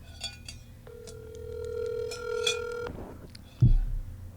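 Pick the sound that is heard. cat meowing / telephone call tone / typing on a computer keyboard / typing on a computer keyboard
telephone call tone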